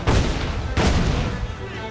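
Two heavy, booming blasts from ship cannons and exploding powder barrels in Assassin's Creed 4 Black Flag, the second about three-quarters of a second after the first, each trailing off into a rumbling decay.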